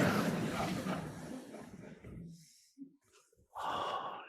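A slow, deliberate in-breath and out-breath during a guided body-awareness meditation, soft breathy air at close range, with a brief pause in between.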